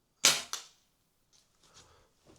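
Two sharp pops from an SMK CP2 CO2 pistol/rifle fitted with a scope, fired inside an underground bunker, a loud crack followed quickly by a second smaller burst, then faint scattered rattles and echoes in the enclosed space.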